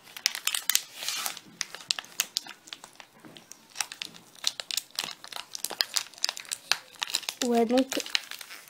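A plastic package of Fimo Air Light modelling clay is crinkled and torn open in close, irregular crackling bursts under a person speaking, with a brief tonal squeak near the end.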